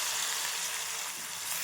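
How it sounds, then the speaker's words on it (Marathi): Green chili, garlic and coriander paste fries in hot oil, giving a steady, bright sizzle with no voices, close and moderately loud. "वाटण पण छान तेलामध्ये परतून घ्यायचं।"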